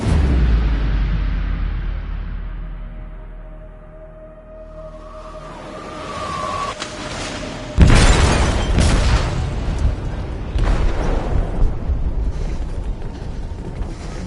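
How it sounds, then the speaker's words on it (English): An explosive detonates in a ship's hold in the Detroit: Become Human game. A low rumbling ambience gives way to a sharp, loud boom, followed by sustained roaring, crashing debris and scattered bursts. "They detonated an explosive in the hold."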